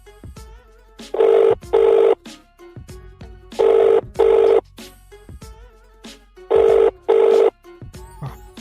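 A telephone ringback tone heard while calling a father in a Telugu storytime animation: three pairs of loud, steady rings at even intervals. Soft tonal blips sit between the rings, and no one speaks.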